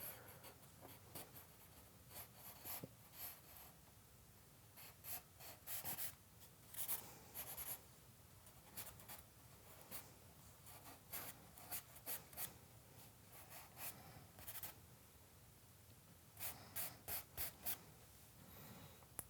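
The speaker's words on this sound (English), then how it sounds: "I'm going to draw a little bit of a shape." Pencil scratching on paper while sketching a shape for a figure drawing of jeans, with soft, close strokes coming in short, irregular bursts and quiet pauses in between.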